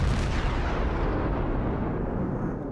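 Naval ship guns firing in a video game, a dense sustained rumble of heavy blasts that fades slightly toward the end.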